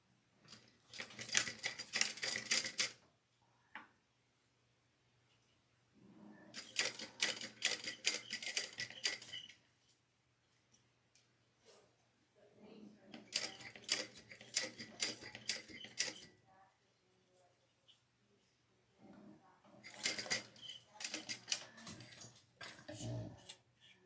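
A sewing machine runs top stitching in four separate bursts of rapid, even clatter, each lasting a few seconds and parted by short quiet pauses, heard close and fairly soft.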